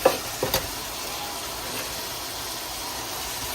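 Ackee and mackerel sizzling in a pot, cooked Jamaican style, with a couple of sharp stirring scrapes at the start and then a steady, soft frying hiss.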